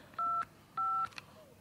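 Two clear touch-tone beeps sound as a telephone is dialed, each lasting about a quarter second with a short gap between, faint and close in an otherwise quiet room.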